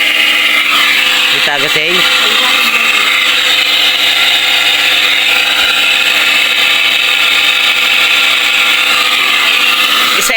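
Loud, steady running electric motor with a faulty bearing, giving a constant harsh whine and grinding hum that stays close and unbroken, with brief speech in the middle.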